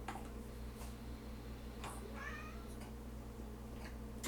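A pet cat lets out a short, faint meow as her tail is lifted, heard over a steady low background hum with a few soft clicks around it.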